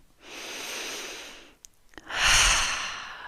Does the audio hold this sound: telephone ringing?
no